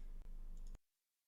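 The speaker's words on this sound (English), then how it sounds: "I'm clicking on my land, but I can't play it. You can hear me click" A couple of sharp, close computer mouse clicks over a steady low background hum, made while playing Magic: The Gathering Online, ending in sudden quiet.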